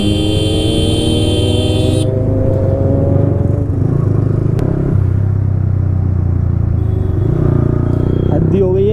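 A Kawasaki Z motorcycle engine drones loudly and continuously while it is being ridden on a road, with rising tonal whine from the engine and a dense rumble, and a horn-like buzz is briefly audible near the start.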